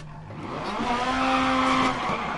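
A DiRT Rally car spins out, its tyres skidding and squealing in a rising, sustained screech for about two seconds over the engine, loud and close.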